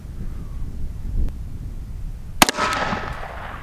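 A single sharp, loud pistol shot from a Tisas 1911 DS cracks out at an outdoor range, followed by a brief echoing tail and a quieter second report, against low ambient rumble.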